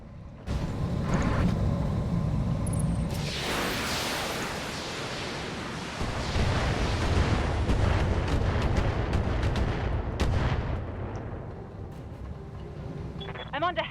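Heavy weapons fire pounds without letup, a dense, loud roar of blasts and booming bursts that swells and fades over several seconds. A voice speaks in places underneath.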